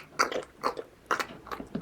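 Chewing demonstrated as a language-lesson example, with crunchy bites in about four bursts close up and no talk over them.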